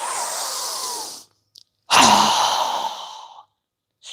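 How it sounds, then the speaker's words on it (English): A strong, fast exhale through the mouth during a breathing exercise, two loud, close breaths separated by a pause, each a long rushing whoosh that fades out. "exhale with a strong, fast breath through our mouth as we exhale quickly, lowering our arms and hands down"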